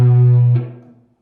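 A distorted electric guitar sounds a single sustained low note from a descending E minor metal riff, ringing loudly before a quick change of pitch and a decay into silence within about a second.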